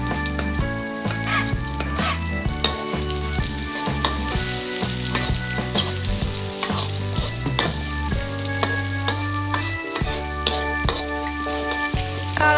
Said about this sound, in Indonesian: Tumis semua bumbunya sampai wangi dan matang.